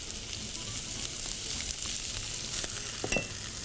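Garlic and capsicum fry in a pan for Arabian rice, a steady close sizzle with light stirring scrapes and a brief clink near the end, with no voices.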